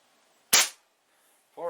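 A single sharp air rifle shot fires a Crosman lead pellet, a close, loud crack that stops quickly. A short hum or voice follows after a pause.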